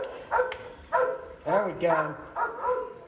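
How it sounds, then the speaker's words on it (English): A dog barks in repeated yapping bursts, about four or five in three seconds, at moderate distance inside a museum, mixed with a person talking over it. "I don't know why it's a dog barking"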